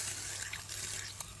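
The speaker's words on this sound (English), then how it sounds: "we can move this tub of water out of the way now" Water sloshing and splashing in a tub being shifted in a garage during a cambelt change on a 2019 Skoda, a short close wet swish with no talking.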